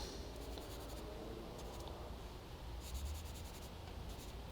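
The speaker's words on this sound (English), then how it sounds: "I'm going to use this Kleenex. I'm going to give it a good rub." A Kleenex tissue is rubbed over a pencil drawing of a gopher on paper, producing soft, faint, steady scratchy swishing strokes close by, with a quiet rhythmic brushing texture throughout.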